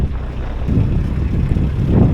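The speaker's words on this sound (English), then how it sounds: "Wind's getting up a little bit as well." Wind rumbles steadily across the microphone out on the water, a loud low buffeting roar that swells slightly toward the end.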